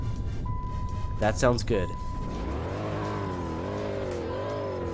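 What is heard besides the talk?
engine startup of a 2008 Dodge Charger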